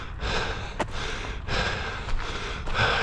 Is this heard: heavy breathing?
yes